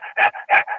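A human voice imitates heavy, dog-like panting, giving five quick rhythmic breaths that alternate between softer and harsher, louder puffs. The sound is close and clear, with no other sounds around it.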